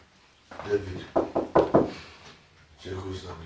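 Several sharp knocks strike a door in quick succession near the middle, framed by indoor dialogue before and after.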